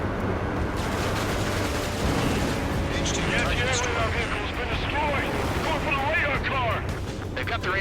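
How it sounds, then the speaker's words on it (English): Anti-aircraft guns open up in a war video game, a dense, continuous roar of gunfire and blasts with whistling tones over it, loud throughout, with voices talking over the barrage. "They've got their anti-air guns aimed right at us."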